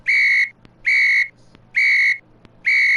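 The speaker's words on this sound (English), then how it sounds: "I'm blowing the whistle on you" Four evenly spaced, clear high whistle blasts, each about half a second long, alternate with short gaps that hold faint clicks. The sound is loud, close and alone.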